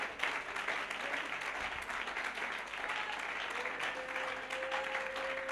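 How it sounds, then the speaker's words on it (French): A church congregation claps for the Lord, sustained applause filling the room throughout, with a faint voice and a held musical tone joining partway through. "Can you give a hand of clap to the Lord?"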